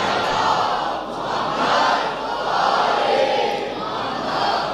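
A large seated audience recites salawat together in loud unison, a dense, sustained chorus of many voices swelling and easing in waves without pause.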